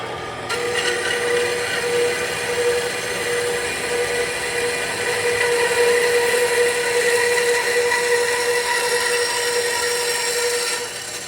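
Power cutting tool grinding steadily into a radiator/intercooler part, a loud, continuous metallic cutting whine with a steady tone that starts abruptly and holds for about ten seconds before stopping, with no talking.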